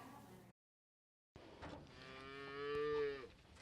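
A cow lows on an Arizona cattle ranch in a single drawn-out moo that swells and fades, close and clear after a brief gap of silence, with faint outdoor ambience around it.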